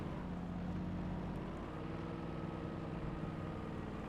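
A car drives in the video game Alan Wake, its engine a steady low drone with road rumble that holds fairly constant throughout, moderately loud and without any talk.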